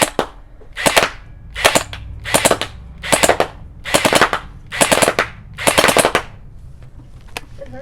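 A Faction Specter gel blaster fires gel balls in a steady series of about nine sharp, loud pops, evenly spaced under a second apart, close by with no talking.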